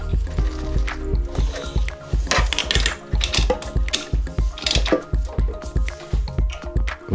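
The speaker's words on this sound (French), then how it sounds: "serrez maintenant l'écrou principal avec une bouille de 16 et une clé à choc" Impact wrench with a 16 mm socket tightening the main nut of an MVT Premium ignition on an MBK Nitro or Yamaha Aerox scooter, heard as a rapid, evenly spaced hammering rattle, close and continuous.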